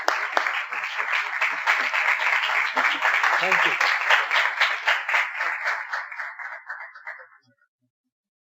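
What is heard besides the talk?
congregation applauding to welcome the speaker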